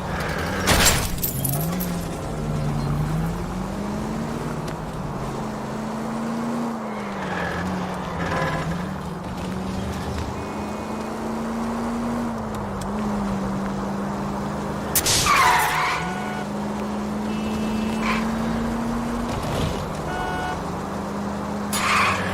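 Car chase in the L.A. Noire video game: a car engine drones steadily and rises and falls through gear changes, with occasional sharp tyre skids and crashes over the top. Loud and close, with a continuous driving rumble.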